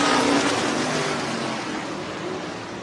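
Stock cars roar past at Hancock County Speedway coming off turn four, a loud engine drone near at first that slowly fades as the pack moves away.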